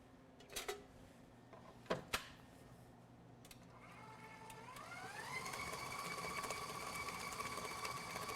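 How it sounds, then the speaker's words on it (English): A stand mixer spins dough. After a few clicks and knocks, the motor whine climbs in pitch and settles into a steady hum that grows a little louder toward the end. "Give it one more spin on the mixer."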